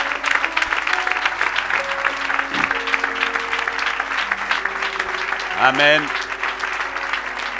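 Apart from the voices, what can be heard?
church congregation applauding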